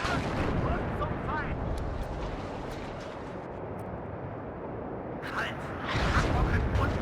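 Lars rocket artillery rains down in the strategy game WARNO, a heavy rolling rumble of impacts and booming blasts, loud and continuous, with a fresh surge of explosions near the end and a voice speaking over it.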